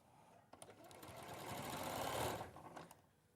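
A sewing machine stitches through many thick fabric layers, a fast whirring rattle that swells and then slows to a stop, close and clear, with no talk over it.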